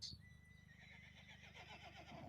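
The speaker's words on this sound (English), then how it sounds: "Sí, hoy todo el camino venía relinchando." Young foal whinnying repeatedly while walking beside its mother, a strained, wavering neigh carrying over a steady clip-clop of hooves close by.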